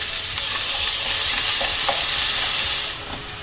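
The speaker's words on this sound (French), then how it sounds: "j'ai mis une sauteuse à chauffer sur le gaz avec un petit peu d'huile d'olive et je vais faire d'abord revenir mon oignon haché" Chopped onion sizzles in olive oil in a sauté pan over a gas flame, a steady close hiss with faint stirring scrapes throughout, easing slightly at the end.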